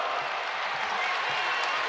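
Home basketball crowd at Western Kentucky roaring and applauding in a dense, steady wash of noise that fills the arena, with no breaks.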